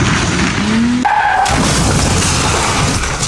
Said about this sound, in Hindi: तभी पीछे से आ रही गाड़ी टेम्पो ट्रक से बुरी तरह भिड़ जाती है।